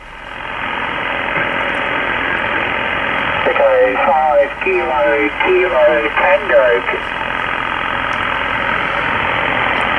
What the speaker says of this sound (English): I can hear the woodpecker in the background